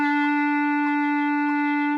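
A single sustained B-flat clarinet tone holds steady at even loudness for about two seconds, with no talking, then cuts off abruptly.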